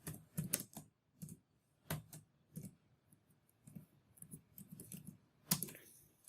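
Someone types a data entry on a computer keyboard, producing quiet, irregular bursts of crisp key clicks with short pauses between runs.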